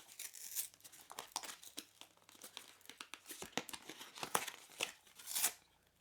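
Cardboard packaging of a KONG Extreme dog toy being torn open by hand: repeated crackling rips and crinkles in uneven bursts, close and fairly loud, with no talking.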